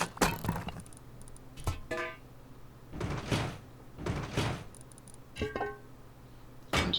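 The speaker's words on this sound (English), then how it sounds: "Now we can install the door and our wall frames that will house the shop fronts" Door pieces being fitted into a Rust base under construction, producing several separate thudding, clunking placement sounds spread through a few seconds, fairly close and moderately loud, with no talking.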